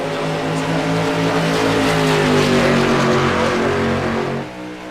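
Two street stock race cars run practice laps at New Hampshire Motor Speedway, their engines roaring loud and close in a sustained, rising drone that eases off at the end.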